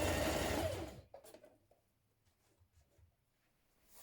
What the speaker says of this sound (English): I'm just stitching it a few millimetres away from the edge with that nice little border of the green showing above it